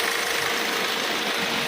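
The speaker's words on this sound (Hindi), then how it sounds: "जैसे ये इसका इंजन है वो ऑलरेडी चालू है" A Hyundai Verna diesel engine with a fuel rail pressure fault idles nearby, a steady, even mechanical hum with faint rattle and hiss and no voices.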